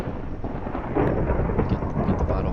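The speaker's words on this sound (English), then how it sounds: "And then now it's thunderstorming." Thunder rolling through a thunderstorm in Minecraft with the EvilCraft mod, a low, rumbling roar that swells slightly midway and carries on without a sharp crack.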